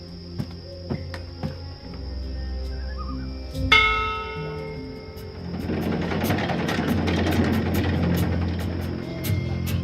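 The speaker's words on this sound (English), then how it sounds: "this is a ship's bell. They use this to signal the crew when a load of cargo's ready to be hoisted up" A ship's bell on a cloud ship in the game Dreamfall Chapters, used to signal the crew that cargo is ready to hoist, strikes once sharply over a steady low hum, with machinery-like rumble and chirping building afterward.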